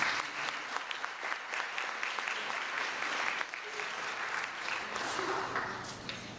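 A college alumni nursing history event audience gives sustained applause to welcome a speaker, with a dense, steady clapping from a full room that continues throughout.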